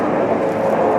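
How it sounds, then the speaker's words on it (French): An airplane passes overhead as a steady, broad, fairly loud roar that holds evenly for about a second with no voices. "Attends, il y a l'avion."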